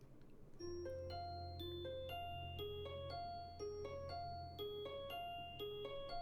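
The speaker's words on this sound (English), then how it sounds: "The bell rings before Misha can reply" A school bell in the visual novel Katawa Shoujo plays as a melodic electronic chime, a run of clear stepped tones ringing out one after another over a low hum, soft and steady.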